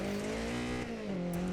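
A Lancia 037 rally car, a rear-wheel-drive Group B machine from the 1980s in DiRT Rally on a Greek stage, engine droning loud and steady, pitch holding high then dipping briefly before rising again.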